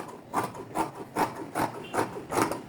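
Scissors cutting fabric for a fitted skirt, six evenly spaced rasping snips about every 0.4 seconds, close and fairly quiet with no talk.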